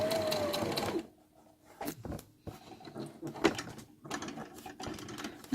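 A sewing machine stitches fabric for a Tilda doll, running in short bursts of rapid mechanical whirring broken by pauses, small clicks and handling noises, close by and moderately loud.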